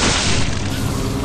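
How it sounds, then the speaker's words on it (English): Laser weapon firing in Dino Crisis 3, a dense continuous roaring blast with heavy low rumble that stays loud and steady for just over a second. "The laser is certainly proving to be the boss weapon."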